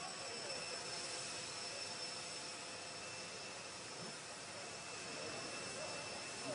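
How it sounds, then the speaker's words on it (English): Air Force One jet landing in Israel, a steady distant roar and whine of jet engines with broadband rushing noise, fairly faint and continuous. "All right, Air Force One"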